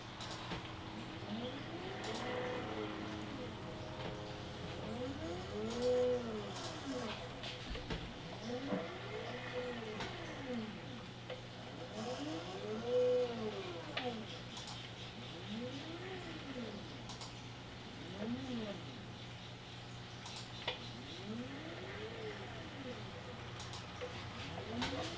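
Cheap stepper motors drive a homemade piano-playing robot, giving repeated rising-then-falling whines as each move speeds up and slows down, roughly every few seconds, over a steady low hum.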